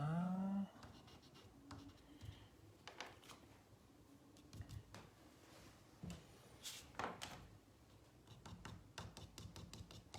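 Chalk pastel scratching on paper while white is added to a winter landscape drawing, quiet irregular strokes and scrapes with brief taps, close and soft.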